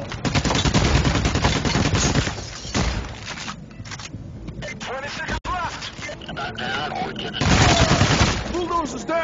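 Dense, loud gunfire from the video game Payday: The Heist, sustained bursts of automatic weapons with heavy booms, nearly continuous with a brief lull, under excited voices talking.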